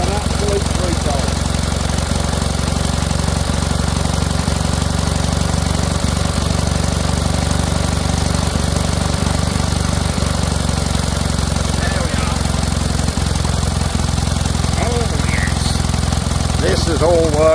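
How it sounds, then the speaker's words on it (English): An old vintage generator runs steadily while powering a home-made light box, giving a loud, constant mechanical drone with a rough, knocking texture that holds unchanged from start to finish. "Our generator is now working a light box."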